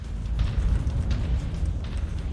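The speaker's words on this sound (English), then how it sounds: "The missiles will hit him." Missile explosions in Mechwarrior 5, a continuous low rumbling roar of blasts with dull booming bursts, heavy in the low end and steady for a couple of seconds with no talk.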